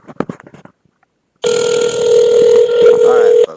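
An iPhone call rings out with a loud, steady electronic ringback tone lasting about two seconds. Brief speech comes just before it, then a short silence.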